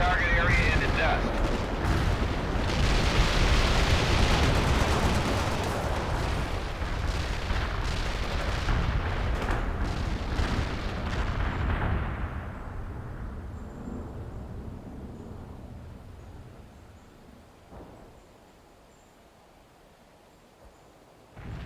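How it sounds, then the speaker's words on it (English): An artillery barrage pounds a target in World in Conflict, a 2007 strategy game: a long, heavy wall of overlapping explosions and rumbling impacts that gradually fades to a low rumble and quiet. "Fire mission received. Artillery barrage inbound."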